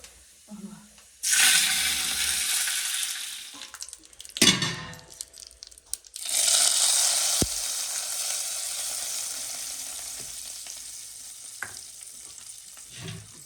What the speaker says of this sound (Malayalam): വെളിച്ചെണ്ണ ചൂടായതിന് ശേഷം ഇതിലോട്ട് കുറച്ച് കടുകാണ് ഇട്ട് കൊടുക്കുന്നത്.